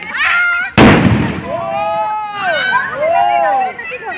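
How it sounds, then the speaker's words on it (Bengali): A firecracker bursts in one sharp, loud bang during a Kali Puja celebration, then people talk and shout excitedly nearby. "জোর বোম ফাটানো চলছে"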